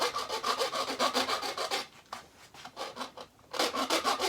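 A metal file rasping along a wooden guitar fretboard in quick repeated strokes, steady and close, briefly lighter in the middle before the strokes resume at full strength.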